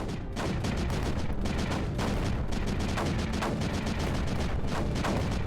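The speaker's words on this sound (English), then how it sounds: "See that mortar hitting it directly, just taking the tower creeper down." Mortar rounds pound creeper in Creeper World 4 as a loud, steady barrage of thudding impacts and blasts. Sharper hits punctuate the dense, continuous rumble at irregular intervals.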